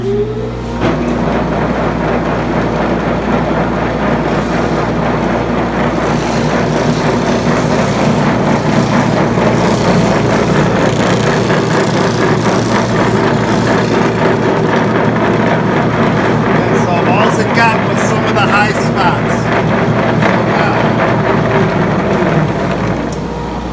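A homemade DIY thickness drum sander runs steadily for the whole stretch, a loud, continuous motor drone with a rough sanding rasp, starting up at the outset and holding an even roar throughout.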